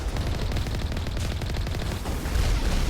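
Rockets firing and exploding in a Mass Effect battle, a dense, loud barrage of rapid booming blasts and crackling bursts packed together without a break.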